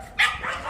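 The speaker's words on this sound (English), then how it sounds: "Sound like my dog's barking." A small puppy dog gives one short, sharp bark, fairly near, in a housing estate in Sunderland, with no one talking.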